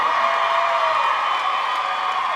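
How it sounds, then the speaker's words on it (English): Crowd at a state pageant final on-stage competition cheers and whoops loudly and steadily for the top 10 contestants, a dense wall of shouting voices with no clear pauses. "So they need to hear you cheer for them."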